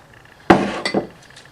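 A drinking glass knocks sharply onto a hard surface with a bright clink, followed by a couple of smaller taps and rattles as it is handled, close and alone.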